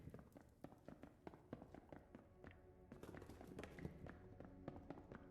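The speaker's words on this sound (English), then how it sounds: "Sounds like footsteps, but I'm in a ship." Quick taps of footsteps on board a ship in a video game, a steady patter of light thuds over busy game music and effects, fairly close and moderately loud throughout.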